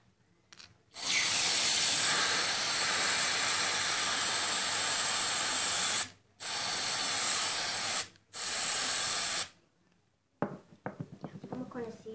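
A can of artificial snow sprays onto slime in close, loud hissing bursts: one long blast, then two shorter ones separated by brief pauses. Soft handling and rustling noises follow.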